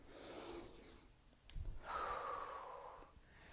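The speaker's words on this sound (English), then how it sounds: "we'll take one more inhale here" A deep breath in during a yoga session: soft airy inhalation, a brief gasp-like catch midway, then a longer drawn breath, quiet and close with no talking.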